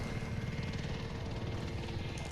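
Helicopter in the video game Modern Warfare, a steady throbbing rotor drone with continuous engine roar, fairly faint and unbroken throughout with no voices.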